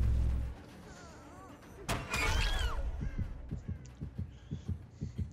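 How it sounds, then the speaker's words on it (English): A game heartbeat from Dead by Daylight thumps in a steady low rhythm after a loud crash, with bird-like cries and faint ambience around it. "Their heartbeat starts going off"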